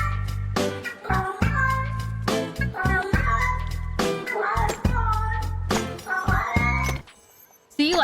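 A kitten in the Disney Dreamlight Valley video game meows over and over, loud and close, with short bursts of game music and effects between the calls.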